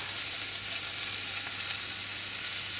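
Pieces of bacon sizzling and crackling in a pan while burgers are being cooked, a dense, steady hiss close up with no talking.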